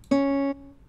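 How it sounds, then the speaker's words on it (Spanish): A single sustained C sharp note, a semitone higher than C, rings clearly for about half a second and then stops. "Y ese es un Do sostenido."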